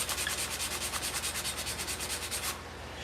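A pencil point is rubbed quickly back and forth on a piece of 100 to 150 grit sandpaper, making a close, rhythmic scratching of about twenty rapid strokes that ends abruptly.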